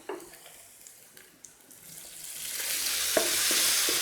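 A spoonful of water poured into spice masala of turmeric, black pepper, coriander and cumin frying in a pan: a soft stirring scrape, then a rising, steady hiss and sizzle that builds and holds loud and close.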